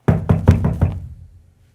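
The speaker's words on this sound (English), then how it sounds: "sometimes it was a knock" Five quick hollow knocks on a wooden coffin from the inside, evenly spaced and close, fading out afterward.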